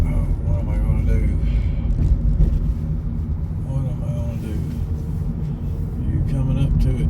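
Steady low rumble of traffic heard from inside a car stuck among vehicles in front and behind, a continuous engine and road drone with a voice talking over it.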